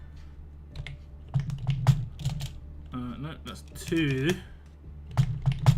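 Computer keyboard typing on a desk where the keyboard sits unevenly, with scattered close clicks and short bursts of keystrokes spread throughout, under and between a man's speech.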